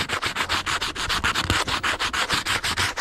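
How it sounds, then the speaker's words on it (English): Steady back-and-forth scraping across a tanned raccoon hide, clearing off excess powder; close, rhythmic rasping strokes repeating about six per second, alone without talk. "just scrape off all the excess powder"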